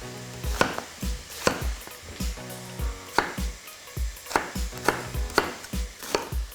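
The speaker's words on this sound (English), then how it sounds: "I'm just going to start to chop my marrow" A knife chops marrow into cubes on a cutting board in a steady series of close, crisp thuds, roughly one or two per second, with no talking.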